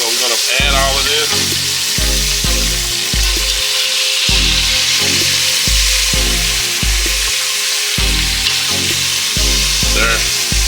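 Birria meat frying in a pot with a steady loud sizzle, broken up by repeated clanking and scraping of a utensil stirring the pieces, and faint voice in the background.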